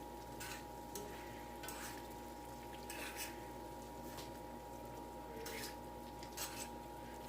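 Fajita mixture is stirred in a hot pan, a steady sizzle and frying hiss running throughout with soft intermittent scraping strokes every second or so, close and moderately quiet.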